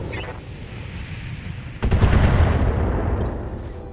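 In the Battletech mech video game, weapons fire in a rapid burst of thuds and explosions that rise into a loud, dense rumble over a continuous low background hum.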